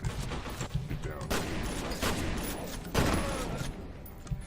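Shotgun and other gunfire in a video game, heavy booming blasts layered over a dense stream of shots and explosions, loud and continuous, with voices mixed in.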